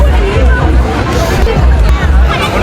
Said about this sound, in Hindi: देखो गांव पूरा पूरा भीड़ है